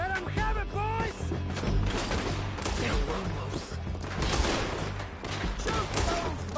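A Red Dead town shootout with dense, overlapping gunshots cracking in rapid irregular bursts, loud and continuous, mixed with shouting voices and impacts.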